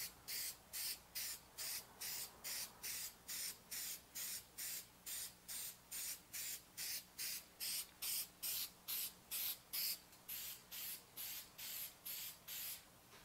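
A spray can applies a primer base coat to a disassembled Xbox One controller, giving about twenty short, evenly timed hissing bursts in a steady rhythm, close up and alone.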